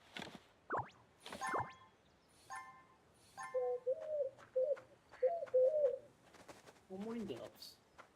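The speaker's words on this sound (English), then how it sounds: "Morning doves." Mourning doves coo in a video game forest, a series of soft, low, hollow coos in short repeated phrases mixed with brief chirps and rustling sounds, moderately close with quiet background.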